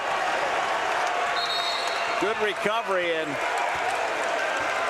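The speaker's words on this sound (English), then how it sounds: "The crowd loves it." A college men's basketball crowd at a Hope versus Calvin rivalry game roars and applauds after a blocked shot, a broad steady wash of cheering under a play-by-play announcer talking.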